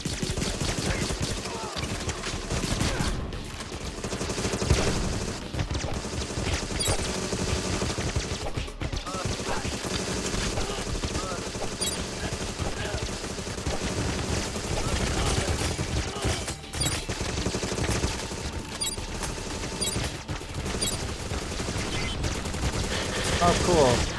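Enemy gunfire in the shooter Agent 64: Spies Never Die rattles almost continuously as dense, overlapping shots and bursts over busy game sound, with a voice talking intermittently.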